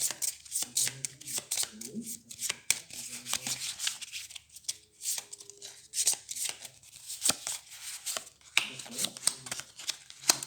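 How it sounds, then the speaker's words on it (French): Playing cards from the Xenoshyft board game being shuffled by hand, a run of quick dry riffling and tapping bursts close by, with brief pauses between passes and faint talk now and then. "Je mélange le boss avec les cartes."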